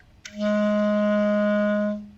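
A single sustained clarinet B flat note, steady and clear, held for about two seconds with a soft attack and gentle release, played alone.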